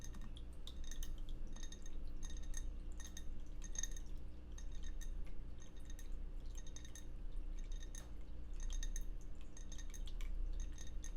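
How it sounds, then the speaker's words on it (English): A glass candle is tapped softly with fingertips in a quiet room, giving quick, light clinks in small irregular clusters. The close, delicate tapping continues throughout, with no voice. "So I'm just going to start by tapping this candle."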